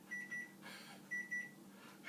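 A kitchen timer beeps in short paired pulses, faint and thin against a quiet room hum, while cookies are baked on Christmas Eve, with a soft rustle between the beep pairs.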